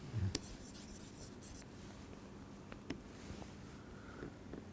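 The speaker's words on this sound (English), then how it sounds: "let me write cleanly" Chalk or marker writing on a board during a lecture on shortest path algorithms: faint scratchy strokes and taps, intermittent and close, in a quiet room with no talking.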